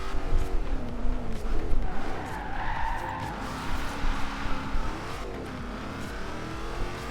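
A car in Forza Horizon 2 drives fast along open roads, its engine roaring and revving steadily while tires skid and squeal through corners, loud and close throughout.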